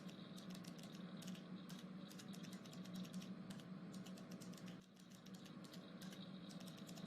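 Brisk, steady typing on a computer keyboard as quiz answers are entered into a Google Forms page. Rapid clicking runs over a low room hum, pausing briefly before the keystrokes resume, and no one speaks.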